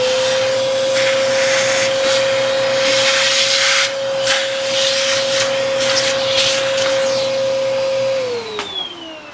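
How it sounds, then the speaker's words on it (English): Vacuum cleaner sucking up paint residue while an arcade cabinet is reassembled, a loud steady whine droning continuously with scraping and rubbing over it, the motor pitch sliding down as it switches off at the end. "Just quickly vacuum this up a bit."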